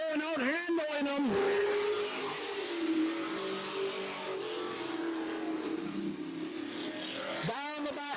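A race car engine roars around an oval track, loud and sustained as it passes, with a commentator talking over the noise.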